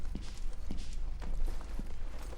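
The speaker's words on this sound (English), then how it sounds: "Footsteps to my right." Footsteps in a video game, a handful of soft, evenly spaced steps moving off to one side over a steady low ambient hum, with no talking.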